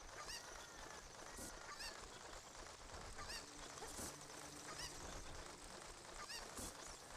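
Cucco chickens in the game Ocarina of Time, clucking and squawking in repeated short calls over a steady, busy game background.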